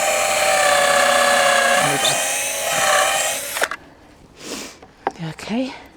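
Power drill driving screws into pallet wood for a compost bin, a loud, close, steady whine for several seconds that cuts off abruptly, followed by softer handling knocks and a brief spoken word.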